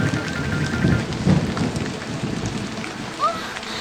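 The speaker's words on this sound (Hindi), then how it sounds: "ऐसा लगता है तेज तूफान भी आने वाला है।" Cartoon thunderstorm with steady heavy rain hissing over a forest campsite, a low thunder rumble swelling near the start, and a brief squeaky tone near the end, with no talk.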